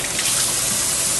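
Water running from a tap onto a piece of cloth being wetted for wiping sharpening paste off a sword blade, a steady close gush with an even, continuous flow.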